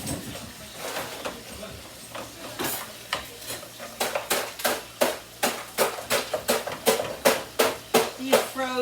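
Frozen shrimp cook in a pan with a soft, steady sizzle while a utensil scrapes and stirs in quick, rhythmic strokes that grow more regular toward the end.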